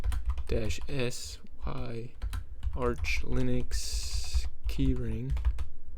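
Computer keyboard typing clatters in quick bursts beneath a man's ongoing speech, the keystrokes partly masked by his voice while he works in a Linux terminal.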